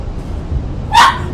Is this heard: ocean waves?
no